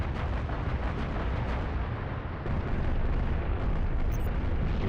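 A massive ship explodes in the Halo Reach video game, a long, dense rumbling blast that roars steadily for several seconds, loud and close, with no talk over it.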